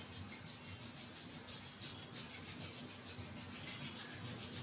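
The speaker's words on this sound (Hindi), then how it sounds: "Rub your palms." Palms rubbing briskly against each other during a yoga session, a soft, steady hushing friction heard close and quiet, with no talking.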